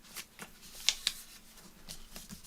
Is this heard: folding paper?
yes